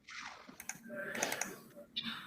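Quiet typing on a computer keyboard, with a short run of irregular key clicks and taps.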